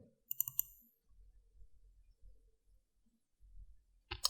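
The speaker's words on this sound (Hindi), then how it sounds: "दोबारा डबल क्लिक कर लें" Mouse clicks in Adobe Illustrator: a quick cluster of sharp double clicks near the start and another at the end, with soft low handling noise between them in an otherwise quiet room.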